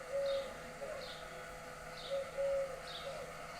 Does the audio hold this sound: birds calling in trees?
yes